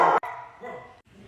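A pet dog barks loudly once at close range, then the sound fades into quieter, muffled dog noises and room tone.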